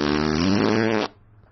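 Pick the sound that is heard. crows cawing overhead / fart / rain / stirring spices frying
fart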